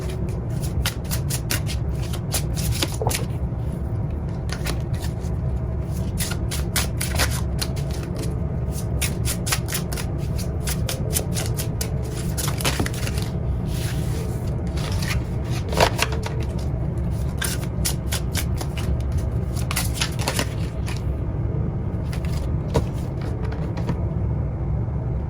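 Tarot cards shuffled by hand in a continuous soft riffling and rubbing, close and steady throughout with occasional brighter flicks, no voices.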